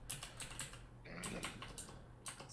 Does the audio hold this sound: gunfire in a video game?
no